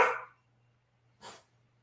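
Two sharp, high yappy barks from small dogs, close and separated by about a second of near silence, with no one talking.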